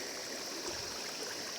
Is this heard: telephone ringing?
no